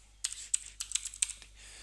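Keystrokes on a computer keyboard during software setup, about ten quick clicky taps in short bursts with brief pauses, close and fairly crisp against a quiet low background hum, no talking.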